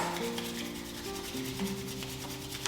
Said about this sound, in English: I want you to just rub your palms together